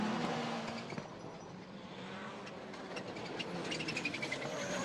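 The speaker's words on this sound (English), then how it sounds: "you can hear the turbo skittering there as they get on and off the throttle going round the corners" Rallycross cars racing round corners, turbos skittering and fluttering as drivers come on and off the throttle; a distant, fairly faint engine blur with hissy bursts and rising tones, no voices.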